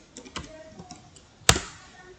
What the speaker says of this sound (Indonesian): Lalu kita ketikkan git